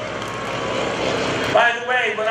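A Stearman biplane at an airshow drones steadily in the distance as it flies past, its engine tone shifting slightly, while a voice talks over it.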